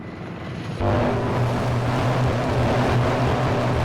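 An Apache attack helicopter in the Arma 3 video game thumps in abruptly with a loud, steady, throbbing rotor drone in a snowy winter setting.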